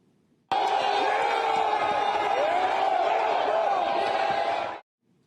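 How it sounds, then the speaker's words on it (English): Rioters cheering and celebrating inside a building as a dense crowd, a loud continuous roar of shouts and whoops that rises abruptly, holds steady for several seconds, then cuts off. "Some rioters celebrating, thinking officers were giving up the building"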